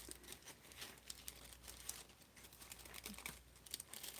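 Tissue paper crinkles and rustles as laser-cut ornaments are unboxed, a quiet, close, continuous crackle with small bursts of crumpling.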